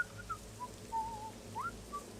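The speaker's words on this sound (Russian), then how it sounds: "Вайл Квилл Ронда насвистывает здесь." The character Vile Quill Ronda whistles a soft, wandering tune of short sliding notes in the video game Morrowind, over a low ambient background hum.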